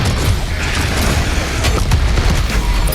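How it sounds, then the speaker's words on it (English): Rocket launcher in DOOM Eternal firing a triple lock-on volley, a dense, loud wash of mechanical clatter and booming blasts that runs continuously with no talk over it. "So I'm going to do a triple lock on with this bad boy."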